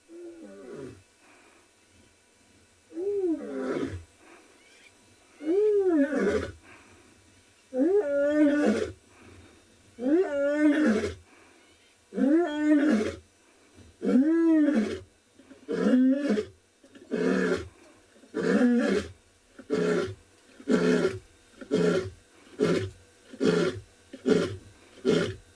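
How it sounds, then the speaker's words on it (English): A lioness of the Mogoro Pride at Tswalu calls at sunrise in a long rhythmic series of roars. The calls start as a few deep moans, grow into loud, full roars, then break into quicker, shorter grunting calls, close and unaccompanied. "Wow, there is nothing like a lion roar"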